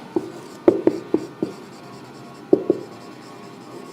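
Chalk or marker strokes on a classroom board during a biology lesson: a series of sharp taps and scrapes in two short bursts, close and fairly loud, with no talk over them.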